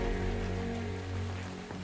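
Steady rain falls in the survival video game ARK: Survival Evolved on The Island map, a continuous hiss that lasts the whole moment over a low game hum, with no one speaking.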